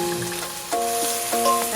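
Food sizzles steadily in a frying pan after being flipped, a close, continuous crackle with brief clinks of the pan and utensil partway through.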